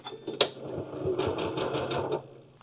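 A sewing machine stitches quilt blocks with a fast, steady mechanical whirr of needle strokes, close and moderately loud, preceded by a sharp click as it starts.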